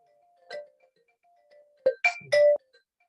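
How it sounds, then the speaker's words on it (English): An incoming call's phone ringtone plays in a quiet room, a short melodic tone followed by a pause and then two louder, brighter chiming bursts close by. "sorry, phone call from somebody"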